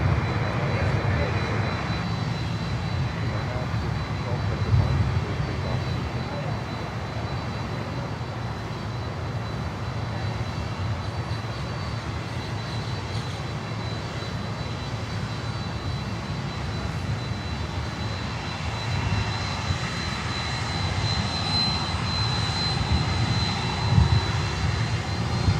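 A jet aircraft takes off at Miami airport, a steady distant engine roar building over about twenty-five seconds. The roar grows louder and brighter near the end.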